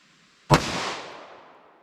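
A single loud pistol shot from .40 S&W PMC ammunition, a sharp crack followed by a decaying outdoor echo that trails off over about a second.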